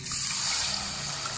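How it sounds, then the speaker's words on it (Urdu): Water is poured into a cooking pot of hot ghee and sugar, a steady close trickling hiss that lasts the whole moment at low volume. "اس میں تھوڑا سا پانی ڈالیں"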